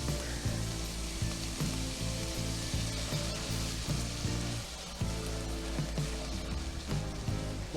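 Garlic fries in a pan with a steady, close sizzle and crackle, joined by light scraping and stirring noises, as part of making bourbon BBQ sauce.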